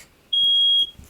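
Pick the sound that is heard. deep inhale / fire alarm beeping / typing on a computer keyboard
fire alarm beeping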